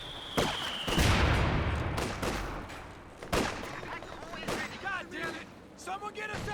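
Katyusha rocket artillery barrage in Company of Heroes 2, a World War II strategy game: several heavy explosive blasts and rumbling impacts, loud and close, mixed with gunfire and talk.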